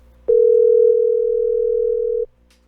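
A phone app plays a single clear, steady electronic call tone that rings loudly for about two seconds and then cuts off, with no speech around it.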